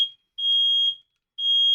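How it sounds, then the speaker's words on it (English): A shrill fire alarm beeps indoors in long, evenly spaced pulses, two full tones plus the tail of an earlier one, loud and steady with no voices over it. "Oh, fire alarm."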